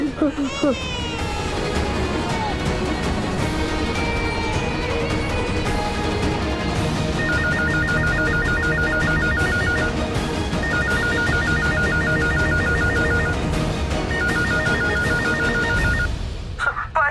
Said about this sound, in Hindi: मैं सूरज को ऑफिस में फोन करता हूँ।